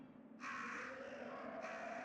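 Crows caw in the Resident Evil video game, two harsh overlapping calls rising over a low ambient drone, close and fairly loud.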